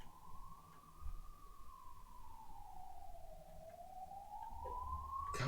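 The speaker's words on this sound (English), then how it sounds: "Goddamn ambulance" An ambulance siren passing outside wails in one continuous, slowly rising and falling tone, steady and fairly prominent throughout, with a brief knock near the start and no talking.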